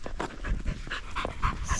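A dog named Bella pants in quick, rhythmic breaths, close and fairly loud, after rushing around outdoors and getting hot.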